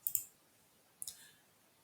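Two quiet double mouse clicks about a second apart, crisp and close against faint room hiss, no talking.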